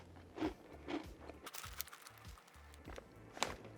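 Crunchy black pepper cheese snacks, little curd-like puffs, bitten and chewed up close in a few distinct crunches with quiet pauses between them.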